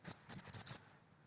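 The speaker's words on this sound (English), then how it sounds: "I'll play first the gray-sided bush warbler" Gray-sided bush warbler song, one very short, fast burst of high, thin notes run quickly together, loud and close, about a second long and alone.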